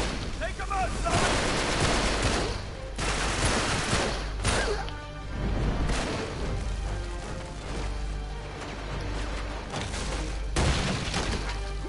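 Gunfire in the video game Uncharted 3: loud repeated shots and bursts of automatic fire with booming impacts, intermittent throughout, mixed with voices talking.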